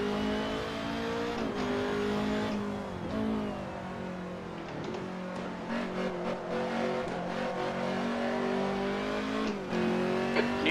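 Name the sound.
race car engine in a racing video game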